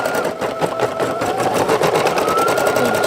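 A patch-stitching embroidery machine runs loud and close, its needle hammering out a rapid, even mechanical rhythm without a break.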